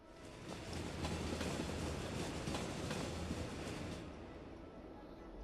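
A tram rolling past in the Cities: Skylines city-building game, a steady rumbling rail noise with clicking wheel beats over a low hum that fades toward the end.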